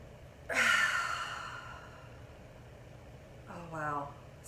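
A person draws a deep, audible breath in, a long airy inhale that swells and then fades, followed a few seconds later by a second shorter breath with a voiced, sighing edge, close to the microphone.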